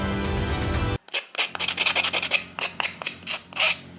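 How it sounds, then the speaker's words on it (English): Short repeated rasping strokes of sandpaper on a wooden coffee-stirrer terrain piece, close and fairly loud in an irregular rhythm after a brief burst of other sound at the start. "sand everything well to make sure there are no splinters"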